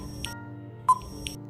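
A quiz countdown timer on an education channel ends with a sharp electronic beep, sounding over a faint tonal background with a couple of softer blips before and after.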